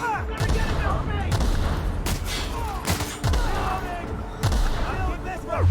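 Gunfire in The Outer Worlds comes as repeated sharp shots and bursts spread through the clip. Shouted voices and combat noise are mixed in.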